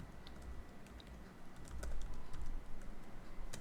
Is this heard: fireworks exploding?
no